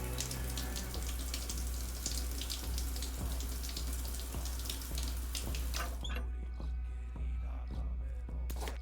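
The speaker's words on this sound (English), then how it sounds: "Shower real quick." Shower running in the space-survival game Stationeers, a steady hiss of water spray over a low hum, with a clicking, rhythmic background pattern; the spray cuts off near the end, leaving quieter ambience.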